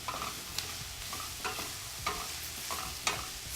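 A spoon stirs food in a pot over lowered heat as it begins to stick slightly, giving repeated scraping strokes in a steady rhythm over a soft sizzle, close and moderately quiet with no talking.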